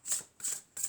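Tarot cards shuffled by hand in three quick, close papery bursts evenly spaced, with no voices.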